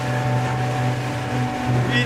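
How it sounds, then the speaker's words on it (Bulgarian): Ships passing on open water heard from aboard a small boat, a steady low motor drone with a humming tone and wind over the water, loud and close throughout, with a brief voice near the end. "Ето се разминаваме с кораби."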